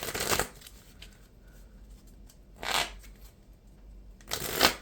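A Marvel Champions card deck is riffle-shuffled in three quick, crisp bursts, near and clear, with quiet pauses between them.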